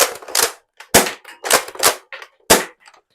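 An Arctic Zero Striker toy dart blaster fires Elite foam darts in a quick series of sharp, snappy pops, about six or seven shots spaced roughly half a second apart, close and loud with brief silences between.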